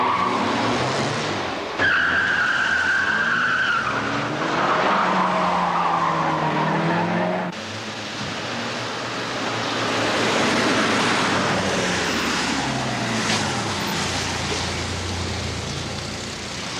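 Racing cars roar past with long, loud tire squeals and skids, engines straining nearby, the screeching rising and falling continuously before a second wave of skidding rumble takes over.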